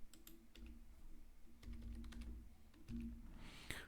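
Typing a subdomain name on a computer keyboard, a run of close, crisp key clicks in irregular bursts with short pauses between them, alone without talk.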